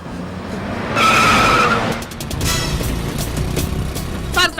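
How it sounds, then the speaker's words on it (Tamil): A car screeches into a loud tire-squealing skid, then keeps driving with engine roar and further squeals, close and intense, in a chaotic chase through traffic. "சார் சைக்கிள் கேப்ல கார் ஓட்டுறீங்க சார்."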